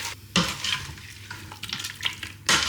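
Frozen peas and frozen garlic stirred in a hot casserole dish of a Ninja Foodi, a busy scraping sizzle with a few sharper clatters and bursts, close and continuous for a few seconds with no talking.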